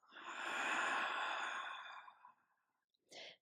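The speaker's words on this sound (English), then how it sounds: "Open mouth exhale." An open-mouth exhale in a morning yoga practice, one long breathy sigh close to the microphone lasting about two seconds and fading out, followed by a short sharp breath after a pause.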